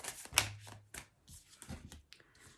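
Tarot cards shuffled and handled by hand, a close, quiet run of soft flicks and riffles with one sharper slap near the start, no talking.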